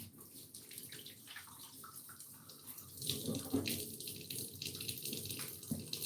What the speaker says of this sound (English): Let me wash my hands.